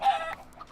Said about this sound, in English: Let's get this guy, this little rogue chicken